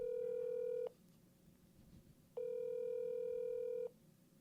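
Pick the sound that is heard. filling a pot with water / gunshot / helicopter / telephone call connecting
telephone call connecting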